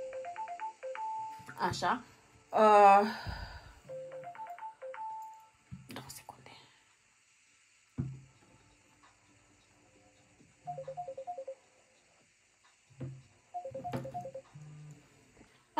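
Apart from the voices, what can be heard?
mobile phone ringtone ringing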